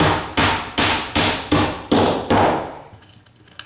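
Hammer blows driving nails into a custom-built wooden cabinet body, six sharp, evenly spaced strikes about every 0.4 seconds, each ringing briefly before the next, close and loud, then fading into quiet workshop noise.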